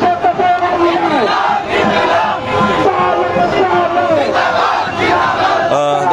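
Students chanting slogans at a Victory Day rally in a student movement against discrimination: a loud crowd shouting in rhythmic, overlapping chants, close and sustained throughout.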